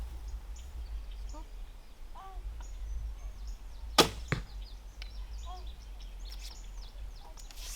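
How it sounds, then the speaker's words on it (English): A Black Widow KBX 54-inch bow shooting a roughly 480-grain arrow without a clicker gives a single sharp, low thunk midway, quiet overall, with faint bird calls in the background. "such a quiet bow, and the sound it makes is just a thunk"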